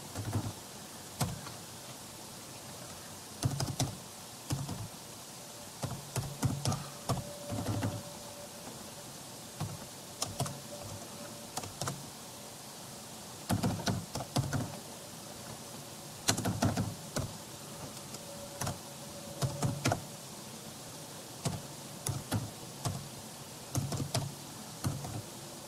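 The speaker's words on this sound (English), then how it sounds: "I am not very well in typing" Keys clatter on a computer keyboard in short, uneven bursts of rapid taps separated by pauses, fairly faint over a steady room hiss, with no voices.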